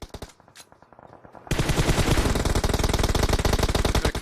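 Rapid automatic gunfire in a tournament shooter game hammers at a moving UAZ vehicle, a loud sustained burst of evenly spaced shots following a few scattered distant cracks.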